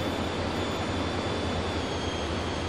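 An F-14 Tomcat jet in a flight simulator drones with a loud, constant engine roar, a steady broadband rush with a faint high whine running through it.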